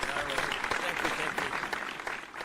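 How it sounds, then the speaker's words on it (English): A canned applause sound effect on a talk show, a continuous wash of clapping at moderate level with someone talking over it. "It's fake applause."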